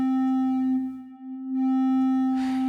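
Sustained synthesized string-model tone from the Nirvana device, a steady pitched note with rich harmonics that briefly thins and dips around the middle, then swells back with a noisy, damped burst near the end.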